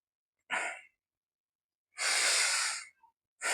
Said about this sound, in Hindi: साँस को छोड़ के